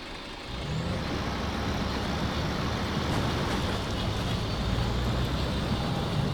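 A Kodiak truck in SnowRunner reverses while pushing a trailer, its engine a steady, loud, broadband rumble with a low drone that holds for several seconds after a brief quieter start, with no talking.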